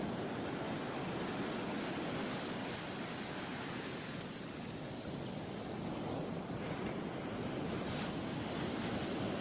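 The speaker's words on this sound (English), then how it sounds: "You can be transported to the ocean." Ocean waves on a beach, a steady broad wash of surf noise with slow swells and no distinct breaks, soft and continuous, with no voices.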